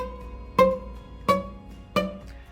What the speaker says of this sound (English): checking for buzzy frets